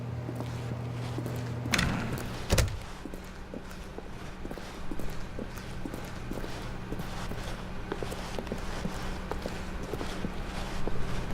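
Video game footsteps tap softly and evenly in The Stanley Parable. Two sharp thuds, like a door, come near the start, then the steps keep walking at a steady pace.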